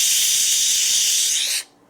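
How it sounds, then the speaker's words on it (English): A Ninja Foodi electric pressure cooker vents steam in a loud, steady close hiss that holds evenly, then cuts off sharply into near silence. "we blew off some steam without you needing to see it because all it sounds like is this"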